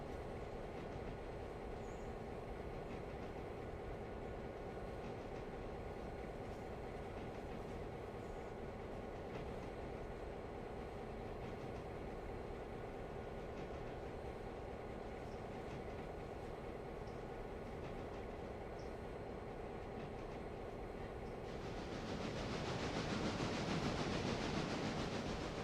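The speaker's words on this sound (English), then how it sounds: "This locomotive's putting in the work." In the game Railroader, a locomotive hauls a train with a steady low rumble and rhythmic clatter of wheels for a long stretch, swelling louder near the end.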